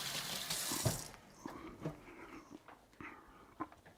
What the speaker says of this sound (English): Wash my hands before going to touch anything else in the kitchen.